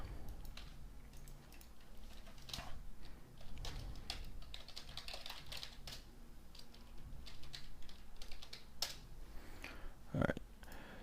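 Typing on a computer keyboard, a light run of soft clicks and taps with brief pauses, close and fairly quiet beneath a low background hum, with a voice talking faintly at moments.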